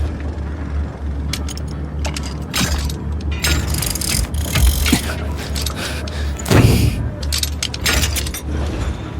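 A wrench clicks and ratchets while tightening slide equipment during an installation, metallic clinks and rattles in quick irregular bursts over a steady low mechanical hum.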